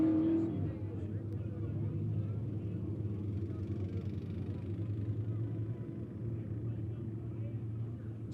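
Race cars at Monett Motor Speedway rumble low and steady as they roll onto the track for a heat race, a distant idling drone beneath a track announcer's voice.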